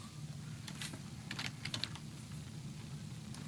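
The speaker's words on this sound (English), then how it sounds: "Just keep typing American." Rapid computer keyboard typing comes in short clustered bursts of crisp clicks over a low steady background hum, close and fairly faint, with no speech.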